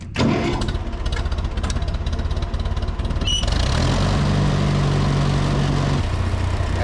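A tractor engine cranks with rapid rhythmic turnover, catches after a few seconds and settles into a loud, steady running rumble close by, before discing buckwheat seed into a half-acre food plot for deer.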